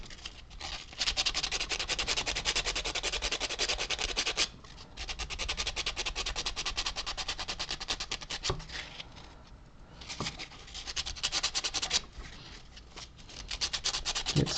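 Sandpaper rubbed by hand over a carved cylindrical wooden scroll for a model, a close, loud, rasping stroke repeated in bursts with brief pauses between passes.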